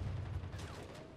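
Gunfire in a Halo Silent Cartographer mod, a militia battle in a city, heard as a dense, continuous rumble of distant shots and booms, with a faint whistling streak partway through and no talking.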